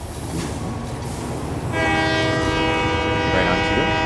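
A train rolls by in the factory-building game Satisfactory, arriving partway through with a loud, steady mechanical hum and horn-like tonal drone that swells in and holds close over a low background rumble.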